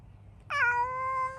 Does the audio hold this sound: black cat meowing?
yes